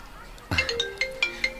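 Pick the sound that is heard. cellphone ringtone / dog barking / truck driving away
cellphone ringtone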